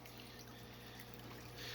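Steady close splashing of an aquarium filter outflow pouring into the tank surface, a continuous watery rush with no breaks.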